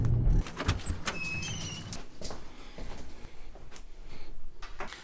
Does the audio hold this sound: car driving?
yes